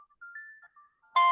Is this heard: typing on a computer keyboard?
no